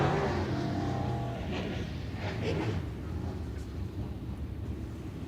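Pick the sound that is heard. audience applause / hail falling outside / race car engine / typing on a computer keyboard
race car engine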